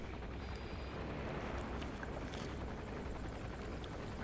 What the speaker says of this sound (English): The chopper's passed overhead again.